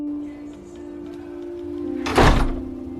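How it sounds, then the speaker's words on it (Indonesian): A door pulls shut in a single short thud near the end, over a steady low hum with no other movement. "Mike pun menutup pintu"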